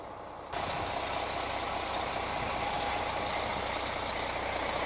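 A bus maneuvering and backing around a gate, heard as a steady, fairly loud engine rumble that begins abruptly and holds on, with a faint tone running through it and no talk.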